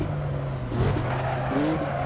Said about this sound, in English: And there's Button locking up.